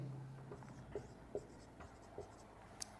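Chalk or marker scratches on a board in short, faint, separate strokes at a quiet, steady pace, with a low hum under them.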